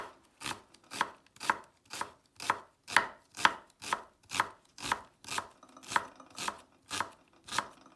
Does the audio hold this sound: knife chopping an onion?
yes